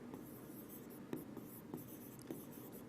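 A teacher writes notes by hand during a Class 10 chemistry lesson, a faint scratchy stroke sound with a few light taps, quiet and close, no talking over it.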